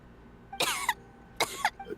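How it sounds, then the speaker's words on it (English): A video game character coughs twice in quick, raspy bursts, each a harsh double hack separated by a short pause, close and clear against quiet background. "How long have you had that cough, Tonya?"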